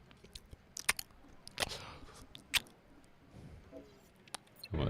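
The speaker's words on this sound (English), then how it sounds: "So if you hear me munching" Someone munches cake close to the mic, with soft irregular chewing and squishy bites scattered over quiet room tone.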